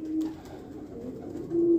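Pigeons coo close by in a loft, a low throaty cooing swelling at the start and again near the end over soft background rustle.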